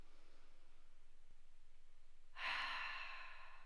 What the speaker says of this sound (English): Again, inhale.